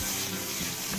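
Sauerkraut fries in melted lard, a steady close sizzle and crackle that holds evenly throughout with no talking.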